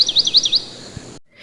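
Several quick bright chirps from a house sparrow in a steady rhythm, close and clear, then a short silence before a fainter call.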